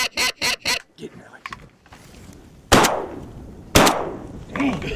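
Two loud, sharp shotgun blasts ring out about a second apart while hunting waterfowl on prairie potholes, preceded by a run of honking goose calls and followed by voices.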